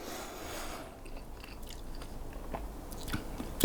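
Close, quiet chewing of 60 day dry aged picanha steak, soft moist mastication sounds in a slow rhythm with a few crunchier bites toward the end and no talk.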